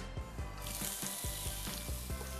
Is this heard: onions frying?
yes